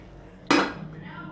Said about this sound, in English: cover the pot